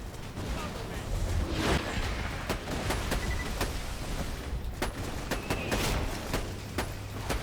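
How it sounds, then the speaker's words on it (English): In the Borderlands video game, bursts of gunfire crack over a constant dense roar of battle noise, with sharp shots coming in irregular clusters, and a voice talks over the action. "Shots were doing no damage for a second there."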